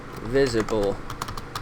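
A few soft computer keyboard keystrokes tap out briefly after a spoken word, light and close, with quick clicks spaced unevenly.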